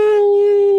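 A dog gives one sustained, steady howl, loud and close, holding a single pitch with rich overtones for just under a second.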